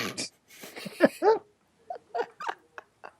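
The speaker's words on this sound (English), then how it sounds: "I got to discipline some damn dogs" Dogs whimper and make short yelps and huffs in quick uneven bursts, close by, with brief gaps of quiet between them.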